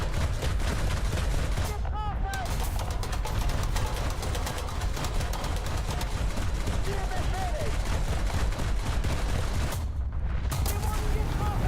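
Steady, sustained gunfire in the video game War Thunder, a dense rattle of shots over a heavy low rumble that runs throughout, with brief sharp breaks near the start and end.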